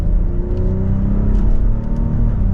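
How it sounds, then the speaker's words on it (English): A 2023 BMW X7 xDrive40i with an inline-six engine pulls mildly from third gear, its steady engine drone and rising tonal whine heard from inside the cabin, loud and continuous with no voices. "Mild acceleration from third gear"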